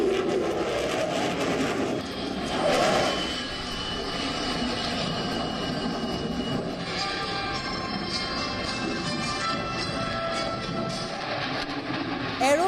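Fighter jets flying, named as Rafale, Sukhoi and Tejas: a loud continuous engine roar and rumble that swells early on, then holds steady at a distance.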